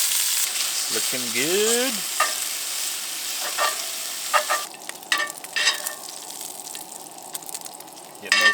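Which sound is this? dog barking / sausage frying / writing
sausage frying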